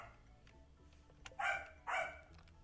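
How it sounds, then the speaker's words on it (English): A dog in a farming video game gives two short, loud barks about half a second apart over a quiet background hum. "That dog is really unhappy."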